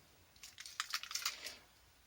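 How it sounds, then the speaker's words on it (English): A bunch of keys clipped to an old climbing carabiner jingles briefly up close, a quick cluster of light metallic clinks and rattles lasting about a second, fairly faint. "got carry my keys on just an old climbing carabiner"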